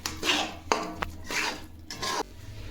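A spoon scrapes and knocks through a raw mango and jaggery mixture in a pan, in about four close, distinct stirring strokes with short pauses between them.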